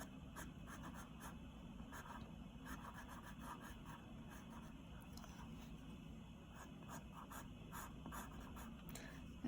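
A pencil scratches and strokes across paper while drawing a figure's hands, a quiet, continuous rubbing with short repeated strokes, close and faint, with no voices.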